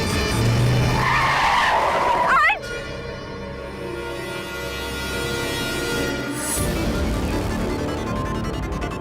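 A car brakes hard and its tyres screech in a loud, rising squeal that cuts off after about two and a half seconds. A low engine rumble and a dramatic ringing tone follow.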